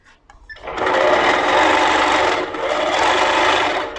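A Handi Quilter moveable longarm quilting machine stitches in a steady, fast mechanical whir, starting after a brief pause and running continuously near and loud with a slight dip midway.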